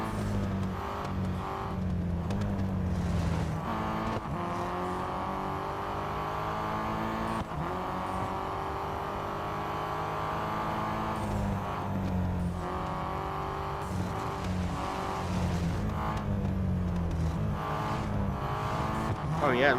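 Race car engines in the Real Racing 3 video game drone steadily throughout a race, with shifting pitch as cars accelerate and overtake, under near-continuous commentary from a person talking.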